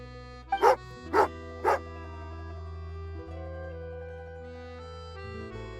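A dog in the video game Genshin Impact gives three quick loud barks over a sustained musical background.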